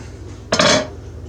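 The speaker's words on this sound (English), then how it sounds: "And then I take another pot and I divide it" A metal pot clanks once, close and sharp, then scrapes and rattles briefly while cooked brown beans are divided into another pot, with a quiet room before and after.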